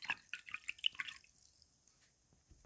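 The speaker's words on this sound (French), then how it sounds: "je rince les pinceaux et je les range" Paintbrushes rinsed in a water pot after watercolour painting, a quick run of faint close drips and splashes, then near silence.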